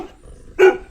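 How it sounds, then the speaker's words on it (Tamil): A single short, sharp dog bark at a house in Borneo, Malaysia, bursts out loud and close after a quiet moment. "பாருங்க, நாய் வச்சுருக்காங்க."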